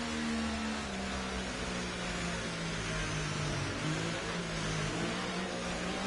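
A racing car engine in a racing video game drones steadily at high revs behind a safety car during a league race, a continuous loud whine with slight pitch dips, alone without talk.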